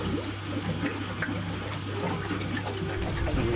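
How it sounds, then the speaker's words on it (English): A pump pushes water through the pipework of an aquarium UV sterilizer, giving a steady rushing, gurgling flow with a low constant hum underneath, close and continuous, with no speech. "we turn on the pump and see if that leaks"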